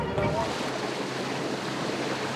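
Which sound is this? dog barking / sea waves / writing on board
sea waves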